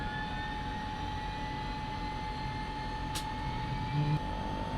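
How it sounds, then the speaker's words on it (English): Jet engine number 1 of an aircraft spooling up at start, a steady broadband roar with a sustained high whine, constant and loud throughout with a brief click near the end. "beginning the engine start sequence. Number 1 starter engaged"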